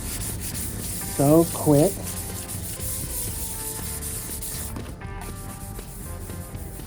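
A spray-painted motorcycle part sanded by hand with a 3M fine sanding sponge, giving a continuous close rubbing scratch, interrupted by a brief spoken remark near the start.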